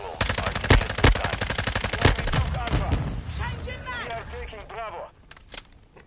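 Phantom FSS submachine gun from the MW2 beta blazing in rapid close automatic bursts, loud and sharp, with game effects and interface chirps trailing off after the firing stops.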